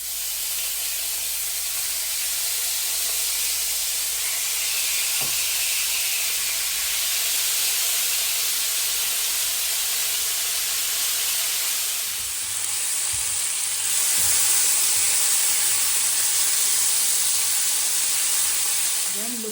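Pork hits a hot pan and sizzles loudly and continuously, a dense close hiss of frying with occasional stirring and a brighter spatter rising partway through.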